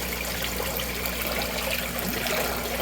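Steady, quiet wash of water trickling and bubbling in an air-driven aquaponics fish tank, a continuous close hiss with no talking.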